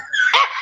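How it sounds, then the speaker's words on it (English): German Shepherd dog giving a single loud, close bark, short and sharp, with no talk around it. "The German Shepherd is a bad service dog."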